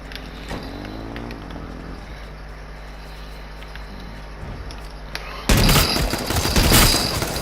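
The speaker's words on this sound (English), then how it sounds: "he had an automatic gun, I suppose" Rapid automatic gunfire bursts out in a video game near the end, loud and dense after a stretch of steady engine-like background hum, with no talking over it.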